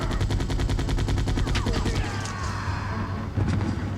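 Rapid gunfire crackles in Resident Evil 2 (Dual Shock Edition), a dense, loud burst of repeated shots followed by a clattering crash and a further shot, with game sounds ringing underneath.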